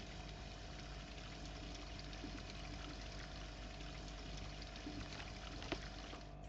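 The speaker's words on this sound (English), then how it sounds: "Fill that up with water." Water fills a coffee machine in the video game Coffee Shop Simulator, giving a faint, steady, continuous pouring hiss with no pauses and no voices.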